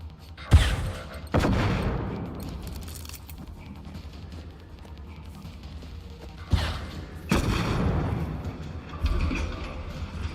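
Gunfire in the video game Generation Zero: a few heavy booming shots, spaced several seconds apart with a couple close together, each ringing out with a long rumbling tail.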